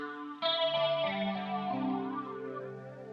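A Gibson SG electric guitar run through chorus and phaser effects rings out as a sustained swirling chord that swells in and shifts pitch, loud and alone with no voices.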